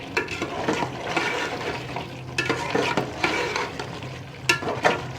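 Chicken for a degi chicken korma frying with softened tomatoes over high heat, a steady close sizzle broken by repeated stirring scrapes in the pot, with no voices.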